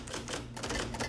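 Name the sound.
typing on an old typewriter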